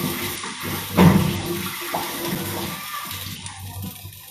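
Water running from a kitchen sink tap as a cook washes up, a steady close gush with a louder surge near the start, with no talking over it.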